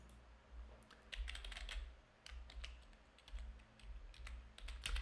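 Typing on a computer keyboard during user-interface design work, a quiet, steady patter of soft key clicks in uneven bursts over a low background hum, with no voices.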